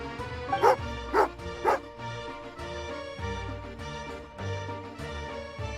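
A dog in the video game Genshin Impact gives three quick barks over a looping game music backdrop, followed by softer whimpers and yips blending into the score.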